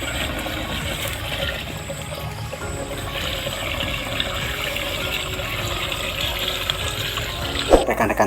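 Water pours steadily into a pesticide sprayer tank, filling it about halfway before any pesticide goes in, a continuous rushing fill heard close up with a brief clunk near the end.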